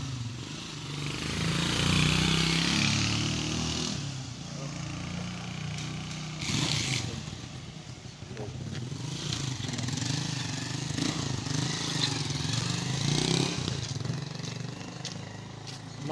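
A motorcycle engine runs steadily outdoors at a tense scene, a continuous mid-pitched drone with some rises and falls, fairly close and loud throughout, with faint background voices.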